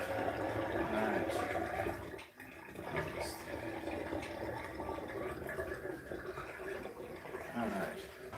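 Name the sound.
water running into a bowl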